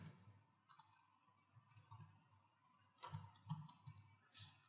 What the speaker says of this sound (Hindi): ओके, तो मैं सिंपली कहीं पर भी क्लिक करता हूँ